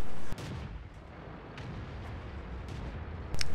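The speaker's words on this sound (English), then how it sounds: "Big hit by the arty, that helps." Artillery shell impacts in the World of Tanks video game, sharp booming hits at the start and end with scattered distant battle rumble between them.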